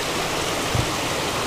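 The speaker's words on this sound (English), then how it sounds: "Water's really flowing nice" Creek water runs steadily at the 4C Creek junction in the San Gorgonio Wilderness, with thin ice forming along the edges. A continuous broadband rush holds at an even level throughout, close by and without speech.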